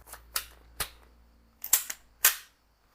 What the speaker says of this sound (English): Let's shoot, let's fire a few more rounds.